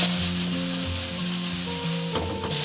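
Minced pork and chili bean paste sizzle in a hot oiled wok as they are stir-fried, a constant crackling fry with a scrape of the spatula near the end.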